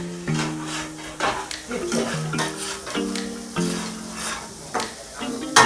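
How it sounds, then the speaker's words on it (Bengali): Shrimp frying in a pan at a busy fish restaurant in Gazipur, a steady sizzle with repeated stirring and scraping strokes and a metallic clink near the end, along with some clattering kitchen noise in the background. "চিংড়ি মাছ ভাজি হচ্ছে।"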